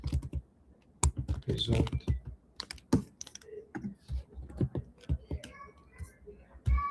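Someone types on a computer keyboard in bursts of sharp clicks and key taps, close and uneven, with a brief spoken word among the keystrokes.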